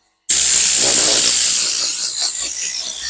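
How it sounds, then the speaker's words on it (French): A steam cleaner blasts a loud, continuous hiss of steam onto new floor mats in a BMW iX1, starting abruptly after a moment of silence and holding steady with slight changes in texture as the nozzle moves. "Je vais uniquement utiliser de la vapeur pour assainir et puis pour enlever les petites taches qui pourraient rester."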